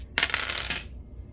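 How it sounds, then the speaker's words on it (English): Dice rolled on the floor, a quick clattering rattle of hard pieces tumbling and settling for under a second, close and alone. "we're just gonna roll the dice here on the floor"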